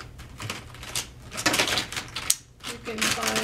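A marker squeaks and taps across paper, quickly dotting polka dots in short bursts of scratchy strokes, close up, with a voice talking over it.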